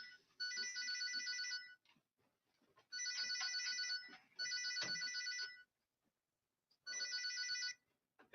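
A phone ringtone sounds for an unknown caller during a movie, playing in four bright electronic bursts separated by short pauses, loud and clear with faint background noise.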